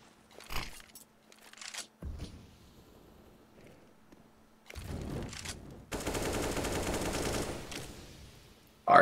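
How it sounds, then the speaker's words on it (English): Bursts of automatic gunfire on the Dust 2 map in Counter-Strike, a short shot near the start followed by a long sustained spray later, with quieter game ambience in between. "Arc laying down some suppressive fire into long there"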